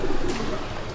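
Pigeons cooing in a botanical garden in Hanoi, Vietnam, soft throaty calls repeating against a busy outdoor background with no speech.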